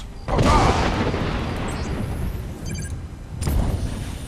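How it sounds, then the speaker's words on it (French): A loud, booming blast from the Thunder Gun weapon in a video game hits near the start and rumbles on, with a second softer burst later and a faint voice underneath. "On va commencer par le Thunder Gun."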